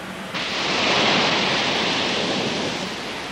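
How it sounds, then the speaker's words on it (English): Waves from a computer-driven wave maker, simulating a 30-knot wind, slosh against a rocking wave barrier in a steady, loud broadband wash that swells in after a brief quiet start and holds without pause. "They're programming a computer to drive a wave maker so that it simulates the waves from a 30-knot wind."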